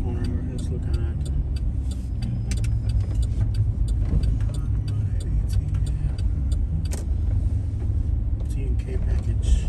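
A car takes a slow corner on city streets at night, its engine rumbling steadily close by with a continuous road drone and scattered clicks and ticks.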